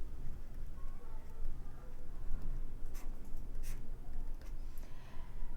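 Pen writing on paper while solving a Class 10 maths question on linear equations, a soft continuous scratching close to the listener with a few light ticks, quiet and without speech.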